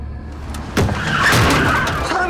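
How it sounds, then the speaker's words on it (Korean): In a Korean drama scene, a car skids hard before striking a person: a short, loud burst of tire screech and road noise that swells suddenly and holds to the end, close up. "사람이 차에 치였어요."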